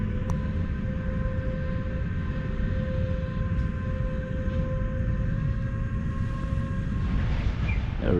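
A freight train rumbling past at steady volume, a deep continuous low roar with sustained tonal hum from the engine and wheels, heard outdoors without talk.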